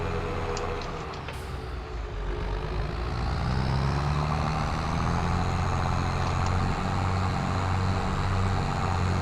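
A dirty tractor's engine drones steadily in Farming Simulator 2023, a constant low rumble that rises slightly partway through, close and continuous, with no talk.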